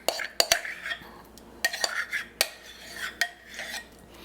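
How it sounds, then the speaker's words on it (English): A utensil scrapes and clinks against a bowl as ricotta cheese is spooned in for Sicilian lasagna filling, several sharp taps and scrapes in an irregular rhythm, close and fairly quiet. "I'm going to put the ricotta cheese in first."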